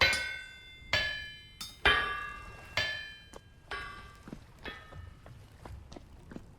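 Hammer blows ring out on an iron bloom over an anvil in the survival game Vintage Story, about a dozen metallic clangs in an uneven rhythm, each with a bright ringing decay. The strikes are loud at first and grow softer.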